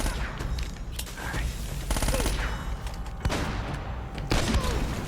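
Shotgun blasts and surrounding gunfire in the game Uncharted: Drake's Fortune at a fortress, with loud repeated bursts and sharp booms over a dense, continuous battle din.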